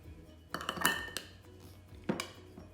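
A spoon swirls caramel syrup in a frappe cup with a few quick clinks and scrapes against the cup, a cluster up front and one more tap later, close and fairly soft.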